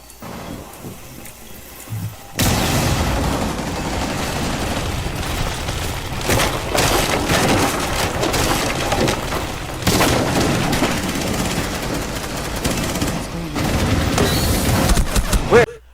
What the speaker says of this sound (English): I was so hyper focused on the ram breaking up the doors